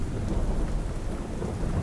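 Steady rain on a surface with low rolling thunder rumbling underneath, a constant dense wash of storm noise with no voices.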